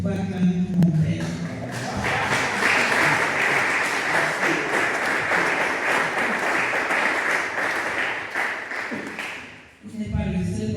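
An audience at a Christian men's seminar breaks into loud, sustained applause and cheering for a father, a dense wash of clapping lasting several seconds, with talk before and after.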